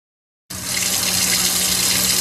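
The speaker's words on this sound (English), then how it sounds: "their water running from their kitchen faucet" Water runs steadily from a kitchen faucet, starting abruptly and pouring as a continuous close, loud hiss before cutting off at the end.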